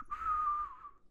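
A person whistles a single sustained, wavering note with their mouth, imitating an eerie ghostly whistle; it rises and holds for under a second, then fades, close and fairly clear with no talk.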